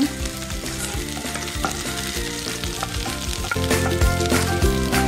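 Onions fry in a pan with a steady, dense sizzle and crackle that stays loud and even throughout, close up with no voices.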